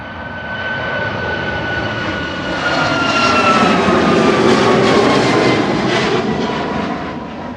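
A two-year-old Boeing 737 MAX 8 jet on flight 851 aborts its landing and goes around at Manchester Airport, its engines spooling up into a loud, sustained roar that swells and holds, with a rising whine, close and unbroken.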